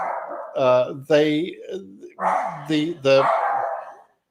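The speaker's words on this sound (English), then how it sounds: "I'm wondering if you can hear me with my stupid dog" A pet dog barks close to the microphone in a home, several loud separate barks and yelps in an uneven run, with a voice briefly speaking among them.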